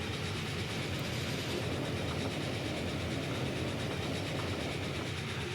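Steady, continuous rumble of a train running in Transport Fever 2, with broad rolling rail noise and faint clickety-clack, even in level throughout with no voices.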